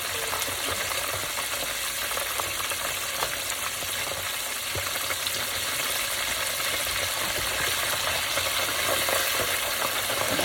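Fish frying in hot oil at home, left in longer to come out hard, with a steady close, dense sizzle that continues without a break.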